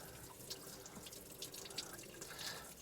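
Water drains steadily out of a Mercruiser 165hp engine block during winterizing, a faint continuous trickle and splatter with small drips, quiet and without voices.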